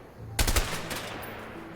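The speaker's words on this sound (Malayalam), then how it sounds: "Try shooting at those empty houses." Gunfire from the video game A Way Out: a quick burst of several loud, close shots fired in rapid succession, followed by a fading echo.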